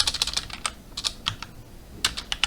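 Keystrokes tapping out a Linux unzip command on a computer keyboard, a quick uneven run of sharp clicks in bursts with brief pauses, close and fairly quiet.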